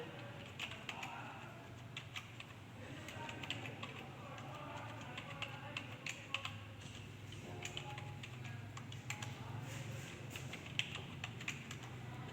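Names are typed on a computer keyboard, with quick irregular key clicks continuing throughout, fairly close and quiet, and faint birdsong in the background.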